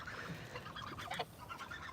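Ducks call in a few nasal, honking quacks over constant background noise, with one louder call standing out in the middle and no talking.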